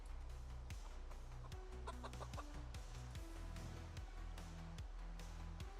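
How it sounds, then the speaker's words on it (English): A pet chicken clucks in a series of short calls close by indoors, mixed over a steady layer of background tones. "my real life chicken's over there making sounds"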